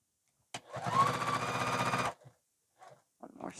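A sewing machine stitches a zipper in one continuous burst of about a second and a half, its rapid needle chatter loud and close. It then stops, leaving a few faint handling clicks and brief quiet movements.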